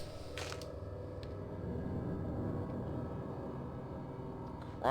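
A door creaks open in The Sinking City, a drawn-out, low grinding creak under a steady ambient rumble, with a couple of brief sharp clicks and a short rising squeal at the end; no speech.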